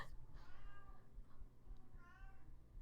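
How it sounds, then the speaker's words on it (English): Cat meowing indoors, two drawn-out mews, the second rising and longer, faint and somewhat distant over low background rumble, no one speaking. "My other cat is meowing."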